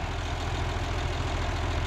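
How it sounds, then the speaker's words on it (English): A 1950 tractor with an overhauled engine idles up close, a loud, even low-pitched throb with a regular chugging pulse and no voices. "this is a tractor."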